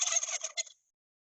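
A turkey gobbles once, a rapid warbling burst of about a second that ends abruptly in silence, close and clear.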